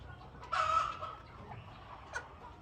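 Chicks and fowl on a small farm in Ghana, a loud cluck-like call near the start followed by a few softer chirps and one short sharp peep, with nobody talking.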